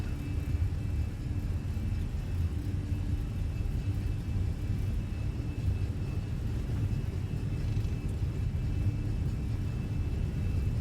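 Airbus A320 jet engines at takeoff thrust during the roll down the runway at Stockholm Arlanda in a flight simulator, a continuous loud roar and rumble with a faint steady whine, sustained without break.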